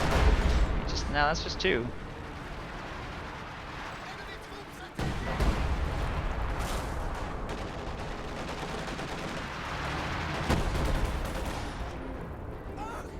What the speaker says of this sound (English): LEFH bombardment continues to wreak havoc.